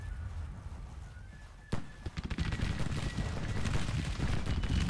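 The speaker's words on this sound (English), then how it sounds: "Now we're firing into their flanks." Infantry volley gunfire in Whiskey & Lemons, one sharp loud crack followed by a dense ragged burst of many shots, then sustained rattling battle noise.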